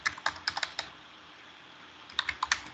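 Keys clatter on a computer keyboard as a command is entered on a Cisco Nexus switch console, a quick run of crisp taps, a pause, then another short burst of keystrokes.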